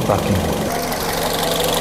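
A car engine idles close by during a vehicle inspection, a steady low rumble with a light mechanical ticking, while people talk over it.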